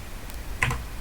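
Two quick clicks of the F4 key on a computer keyboard land close together, sharp and near, in a quiet room.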